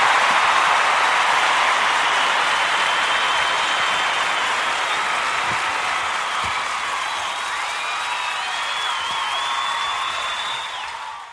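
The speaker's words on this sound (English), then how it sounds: "there's a round of applause for you" A crowd gives a sustained round of applause, a dense wash of clapping with a few whistles rising through it, which slowly fades toward the end.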